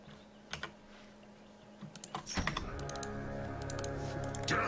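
Fast, uneven keyboard typing on a computer during a Dota 2 game, clicks starting sparse then turning into a dense steady clatter with a rising background hum.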